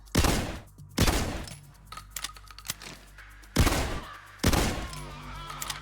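Shotgun fire with flèche armor-piercing rounds in the video game Payday 2: four loud, sharp blasts spaced about a second apart, each followed by clicking mechanical reload and handling noises in between.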